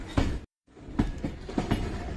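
Train wheels roll over railway crossing points and check rails on an Indian Railways line, giving a rhythmic clickety-clack of several sharp metallic knocks with a brief silent gap.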